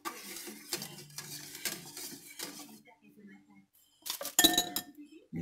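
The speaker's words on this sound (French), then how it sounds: "Là, on continue de remuer" A sauce being stirred in a pot on the stove, with a utensil clinking and scraping against the metal in bursts, under intermittent nearby talk.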